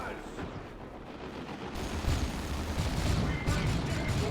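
Storm bolter fire in a Dawn of War 2: Retribution 1v1 match crackles as dense, continuous bursts of gunfire and booms, growing louder and busier midway, with faint battle noise underneath.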